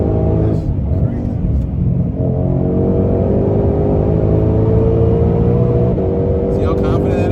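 A car accelerates hard in a roll race with its engine note climbing steadily. A gear change comes partway through, and a voice talks over the loud, close rumble.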